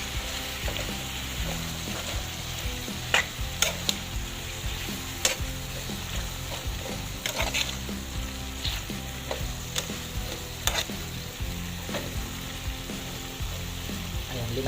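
Okra adobo fries loudly in a pan with onion, garlic and ginger. A constant close sizzle runs throughout, broken by scattered clicks and scrapes of stirring.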